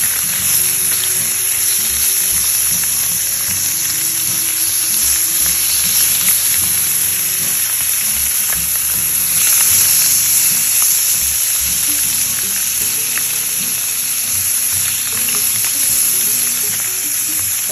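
Thick slices of homemade spiced English-style back bacon, straight from an air fryer, sizzle steadily and loudly in a hot pan, a constant crackling hiss with occasional louder spatters and no voices.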